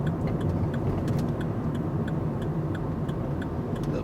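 A car's turn signal ticks in a regular, even rhythm over the low, steady rumble of the idling engine inside the cabin, with no talking.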